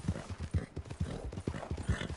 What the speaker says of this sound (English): Oh, that's a horse.